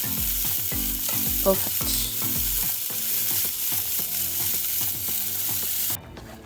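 Potato cakes sizzling and frying in a pan, a steady loud crackle with rhythmic scraping and stirring knocks close by; a voice speaks briefly.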